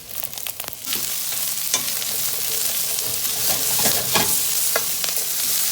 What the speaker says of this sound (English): We'll go ahead and start sauteing our vegetables off. Add our eggplant.